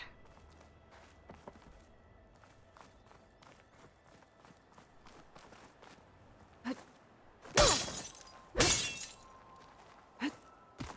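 Tough glass shatters in the Horizon Forbidden West game, two loud bright crashes close together near the middle, set among soft repeated footsteps and light clicks.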